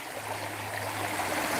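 Rock Creek, in the Chickasaw National Recreation Area near Sulphur, Oklahoma, flows in a steady, continuous rush of water, close and even, with no voices.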